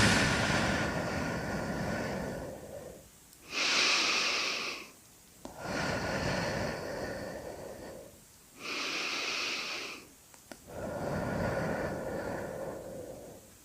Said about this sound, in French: 3 vastes respirations et je souffle longuement l'air